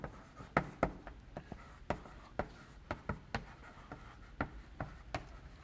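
A lecturer writes on a classroom board, a series of sharp chalk taps and scratchy strokes in an irregular rhythm, fairly close, with no talking.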